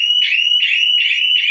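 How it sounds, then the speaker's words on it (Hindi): A shutter and door security siren blares a loud, piercing high-pitched warble, pulsing in rapid repeated cycles of about four per second-and-a-half, close and unbroken with no talking. "ये एक हाई साउंड बीप देना शुरू कर देता है, बहुत ही तेजी तरीके से हाई साउंड बीप देता है।"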